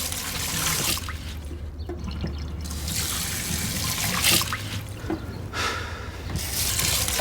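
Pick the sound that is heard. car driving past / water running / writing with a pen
water running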